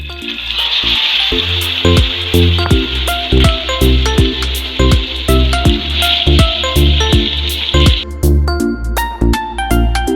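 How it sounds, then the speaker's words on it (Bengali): Pomfret fish lowered into hot oil sizzle and spatter loudly and steadily, with a bright hiss that cuts off after about eight seconds, over a busy background of clanks and rhythmic tones. "গরম তেলে মাছ দিয়ে দিব।"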